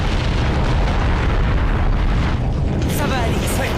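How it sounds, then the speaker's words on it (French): A volcano erupts with a lava flow in a staged audio drama: a loud, dense, continuous roaring rumble fills the whole stretch, and a brief voice surfaces near the end. "Par tous les dieux, une coulée de lave."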